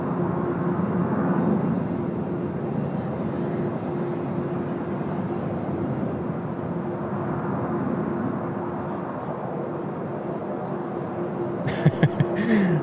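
A Malaysia Airlines Airbus A330 backtracking along runway 34 left at Sydney Airport, a steady low jet-engine drone holding far off and even, with a few brief sharp clicks near the end and no voices.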